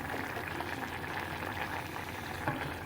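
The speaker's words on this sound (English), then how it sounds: "and it will continue to boil." Stock for a mushroom risotto boils in a pan on a high hob, a steady close bubbling and gentle roiling that stays even throughout, with no talking.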